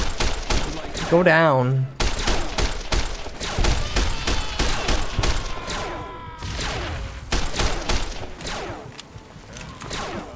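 Rapid, continuous video game gunfire rattles throughout as a steady stream of close shots, with someone talking excitedly over it.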